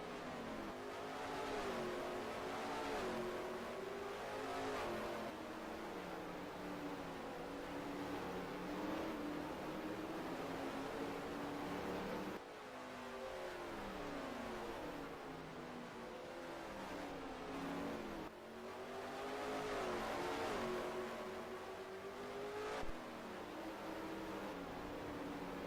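A race car engine in a sim racing game drones and revs steadily, pitch rising and falling through gear changes for the whole stretch, loud and continuous with no talk over it.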